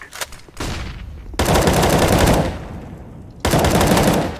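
Loud, sustained automatic gunfire in the video game CS:GO, with rounds punching through a wall: long rattling bursts split by brief gaps, close and dominating throughout.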